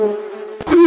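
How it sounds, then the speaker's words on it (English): A bee buzzes close by inside a taqueria in Seattle, a steady droning hum with a louder, rougher burst near the end as it passes nearer. "There's like a bee in here"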